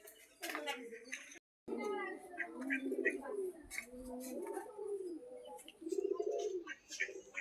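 Pigeons cooing while being fed at a home where hens, pigeons and goats are kept, soft throaty coos and a few chirps close by, mixed in with a person talking to the birds.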